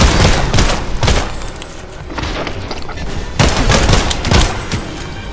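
Rapid bursts of gunfire in the horror video game Beyond Hanwell, loud and close, coming in several clustered volleys with brief lulls between them.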